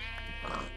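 A short sheep bleat from the video game TerraFirmaCraft, wavering and nasal over a steady droning game background, no talking.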